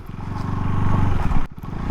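A KTM Duke 390 Gen-3 motorcycle engine rumbles steadily while ridden off-road, close and loud with a pulsing throb and some clatter, briefly dipping before picking back up.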